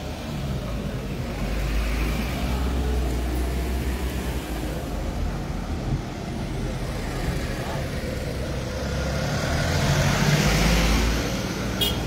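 An auto rickshaw engine rumbles steadily close by as it drives in, a continuous low motor drone with traffic-like noise throughout and a faint voice talking.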